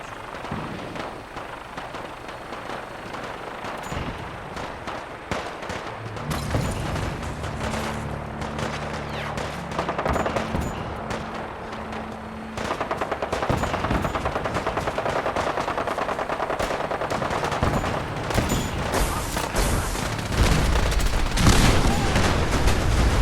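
Video game shootout with rapid bursts of gunfire, machine-gun rattles and scattered shots building over twenty seconds, growing louder and denser in the second half, with low rumbling booms mixed in.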